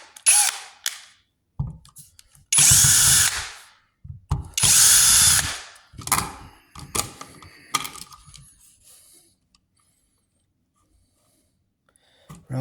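A power drill backs a screw out of a wall outlet cover, giving several loud whirring bursts with ratcheting clicks between short pauses, then trailing off into near silence.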